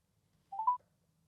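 An Italian phone rings: one short, rising electronic tone, clear but brief, in otherwise quiet surroundings.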